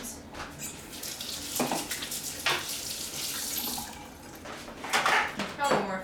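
A water tap runs steadily into a sink while hands are rinsed, a constant splashing hiss that rises and falls with the hand movements and stays fairly loud throughout, with a voice talking faintly underneath at times.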